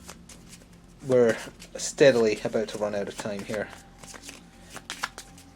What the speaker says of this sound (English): I need to shuffle the deck